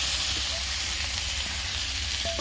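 Masala spices dropped into hot oil in a kadai over a village cooking fire: a steady, broad sizzling hiss with faint stirring scrapes, close and uninterrupted, no talk.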